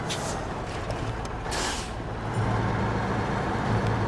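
A truck reversing in a video game, with a steady loud diesel rumble, bursts of air brake hiss and a faint intermittent reverse beeping over the engine drone.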